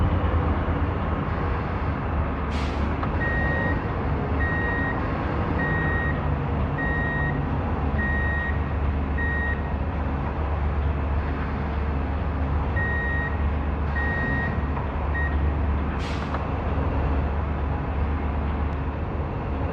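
Repeated reversing beeps from a truck backing up to hook onto a trailer in a truck and logistics driving game, two runs of steady evenly spaced beeps over a constant low engine rumble, with no talking.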